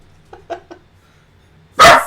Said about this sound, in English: You don't need to bark out the window.